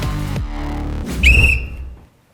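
A short sharp whistle blast used as a podcast segment sound effect rings out once, loud and bright after a brief lead-in, then fades to silence.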